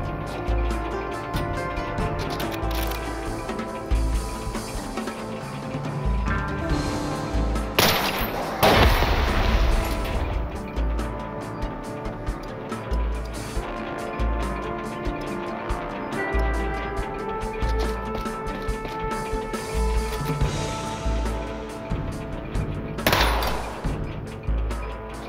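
Robots trade gunfire in the turn-based game SteamWorld Heist II, with dense repeated shots and heavy booms over a continuous musical score, including two sharp loud bursts, with no talking.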